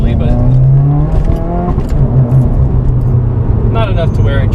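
A 2015 Subaru WRX driven hard, its engine droning loudly and steadily with rising and falling revs, under someone talking throughout.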